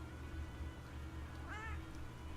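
A pet cat gives a short, soft meow, faint and slightly distant against a steady low background hum.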